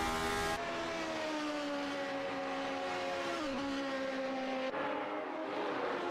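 A battered, crash-damaged Formula V8 race car from a 1979-style championship at Tulln-Langenlebarn screams through turn 1, its loud high engine note holding steady, dipping briefly as it shifts, and then carrying on, with no talk.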